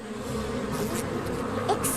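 Bees buzz steadily in a My Little Pony cartoon scene, a dense, fairly loud insect drone that continues unbroken with a few brighter hissing accents.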